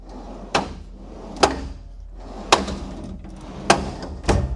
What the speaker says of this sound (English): That drawer's a bit stiff.